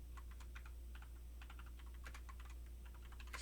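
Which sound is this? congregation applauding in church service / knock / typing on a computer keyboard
typing on a computer keyboard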